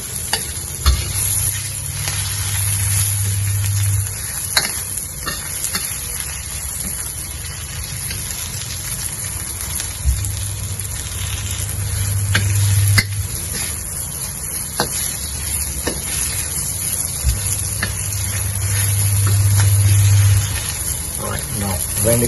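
Chinese chive fries in hot oil alongside tofu and roast pork, a loud constant sizzle with a low rumbling hum that swells and fades repeatedly, stirring noises breaking in now and then.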